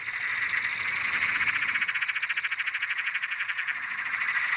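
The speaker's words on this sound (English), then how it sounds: "I could hear a Perrin's tree frog singing in a tree behind me" A Perrin's tree frog calls from a tree nearby, a loud, steady pulsing trill repeating rapidly without pause.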